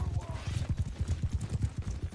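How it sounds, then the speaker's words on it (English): A horse gallops in the medieval battle game Bannerlord, a fast, steady drum of hoofbeats close by, with faint talk underneath. "Hopefully Jaybird kills that horse."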